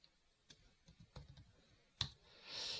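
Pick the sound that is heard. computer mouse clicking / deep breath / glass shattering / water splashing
computer mouse clicking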